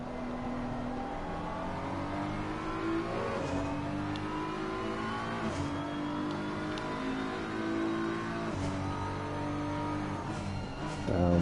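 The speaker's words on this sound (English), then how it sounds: "Down through the gears for the BMW" A BMW GT3 race car in Assetto Corsa Competizione downshifting through the gears at Zandvoort, its engine note dropping in repeated stepped blips and revs, loud and continuous throughout.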